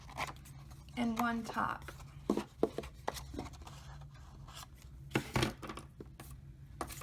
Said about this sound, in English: This X-Acto knife isn't very sharp, so it's kind of a pain to do this.